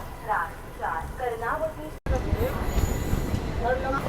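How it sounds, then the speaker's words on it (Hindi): Passenger train 19418 from Ahmedabad to Mumbai Central pulling in, heard from aboard another express: a steady rumbling rail roar with some clatter, under a voice talking. "और यहाँ पे किसी ट्रेन का तो अराइवल हो रहा है, अहमदाबाद मुंबई सेंट्रल 19418।"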